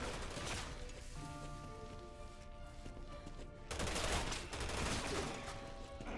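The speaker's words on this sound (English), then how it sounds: "They were shooting." Rapid gunfire from the Resident Evil 6 Ada campaign finale, dense bursts of shots throughout, with a sustained tonal layer in the middle and a louder flurry near the end.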